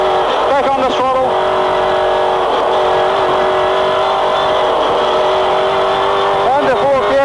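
A V8 touring car at Pukekohe Raceway roars steadily at high revs on the track, the engine note loud and sustained as it accelerates, with a commentator talking over it.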